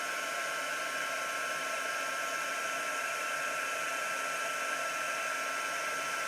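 Heat embossing tool blowing hot air to melt embossing powder on a craft project, a steady, loud, unbroken whirring hiss with a faint whine that runs without pause throughout.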